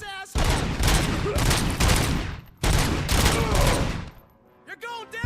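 Loud, sustained bursts of rapid gunfire from RoboCop: Rogue City on PS5, two long volleys separated by a short gap, then a quieter tail with brief voice-like sounds.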